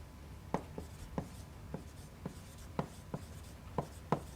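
Chalk or marker strokes on a board during a linear algebra lecture, a series of about eight short, sharp taps and scratches at uneven intervals, fairly close, with no talking over them.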